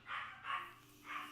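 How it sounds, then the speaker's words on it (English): A dog barks three times in short, faint, sharp yaps, heard from a distance in a quiet room. "Yeah, the dogs are barking."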